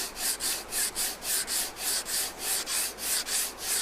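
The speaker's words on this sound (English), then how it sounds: "sand it down" A wooden neck support is sanded with a steel bar in quick, even back-and-forth strokes, about three per second. The rasping is close and steady, with no talking.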